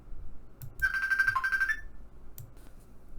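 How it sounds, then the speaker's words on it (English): A phone rings with a short electronic ringtone burst of steady tones lasting about a second, loud and close in a quiet room, followed by a few faint knocks and handling sounds. "that phone just scared me"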